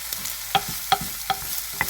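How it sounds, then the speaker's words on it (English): Chopped onions sauteing in an enamel cast iron Dutch oven, a steady close sizzle broken by a few sharp clacks and scrapes of stirring. "So we're gonna saute them."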